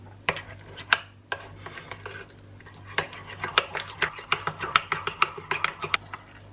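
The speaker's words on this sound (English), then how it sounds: "so we'll just mix the rest of the pesto in." Pesto being stirred into a cream cheese sauce, with a spoon clinking and scraping against the bowl in a quick irregular series of taps and swishes, close and alone.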